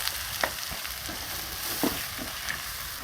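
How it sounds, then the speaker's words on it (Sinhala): Tomatoes frying in a pan for coconut sambol make a continuous soft sizzle, with a few light clicks and taps from stirring scattered throughout, no voices. "තක්කාලි ටිකක් මේකටම දාමු. ඒකට දාලා මලව ගමු."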